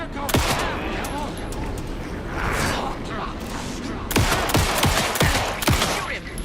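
Rapid bursts of gunfire in the video game Alan Wake 2 during a final boss fight, loud sharp shots crackling in clusters over a dense rumbling game soundscape.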